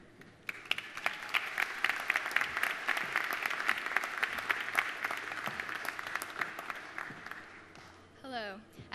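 Applause from a crowd welcomes two students at the UConn Hartford campus ribbon cutting, a sustained burst of steady clapping that builds quickly and fades after about seven seconds, followed by a brief voice.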